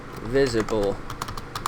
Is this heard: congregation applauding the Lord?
no